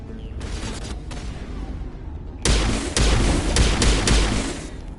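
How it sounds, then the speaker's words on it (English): Heavy pistol shots in Mass Effect, fainter early reports, then a run of five or six loud, punchy thuds in quick irregular succession, close over a low ambient hum. "This pistol's got a nice thunk to it."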